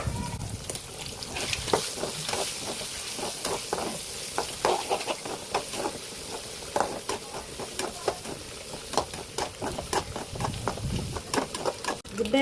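Chicken frying with beaten egg in a pan gives a bright, crackling sizzle broken by repeated stirring scrapes and clinks of a spoon against the metal, steady and close.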